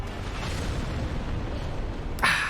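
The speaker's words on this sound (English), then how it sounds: "the other shockwave explosion" A shockwave explosion attack in the video game Dark Souls, heard as a dense, sustained rumbling roar that ends in a sharp bright burst near the close; no talking.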